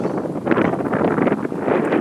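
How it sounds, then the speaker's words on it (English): A tarp flaps and rustles in gusty wind outdoors near alpacas, loud irregular bursts of fluttering and crackling mixed with wind buffeting the microphone, no voices. "the wind is making the tarp do what tarps do in the wind"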